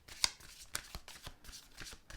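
Oracle cards being shuffled by hand during an earth-sign tarot reading, a soft run of papery riffles and flicks with a few sharper snaps, close and quiet with no talking.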